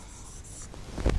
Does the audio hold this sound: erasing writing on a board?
yes